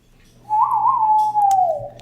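A person whistling a single sustained, wavering tone that starts abruptly, holds clear and close for over a second, then slides slightly downward near the end.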